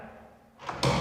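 A door fitted with a rubber seal, shutting like a car door, in a two-storey modern industrial-style house: a quiet lead-in, then a soft muffled thump followed by a louder, firmer closing thud near the end.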